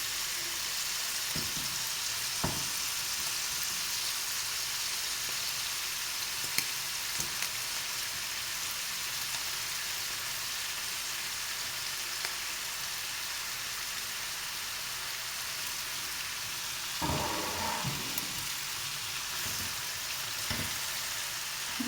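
Food sizzling steadily in a frying pan, the hot frying hiss continuous throughout, with a few soft scraping and clinking stirs near the start and again around the three-quarter mark, close and moderately loud.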